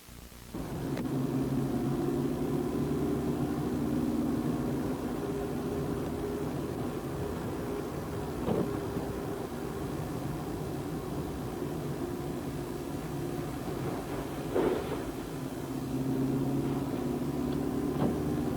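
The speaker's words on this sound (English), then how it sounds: "So he's probably driving out to the dump, right?" Car interior rumble while driving, a steady low engine drone and road noise that runs throughout with a few faint bumps and no speech.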